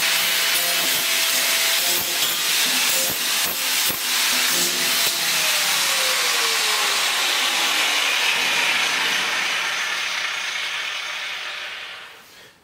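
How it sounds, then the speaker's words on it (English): A grinder smooths the sharp cut edges of an old water tote, grinding steadily in repeated scraping passes. The whine slowly drops in pitch, then winds down and fades at the end with no talk. "we're going to take a grinder and clean them up a little bit"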